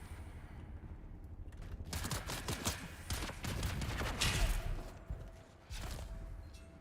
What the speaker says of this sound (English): I do love me some sniper rifles,